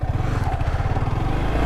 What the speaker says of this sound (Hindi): लेट्स सी कि ये मोटरसाइकिल सर्विसिंग के बाद, मेजर सर्विसिंग के बाद कैसा बिहेव कर रही है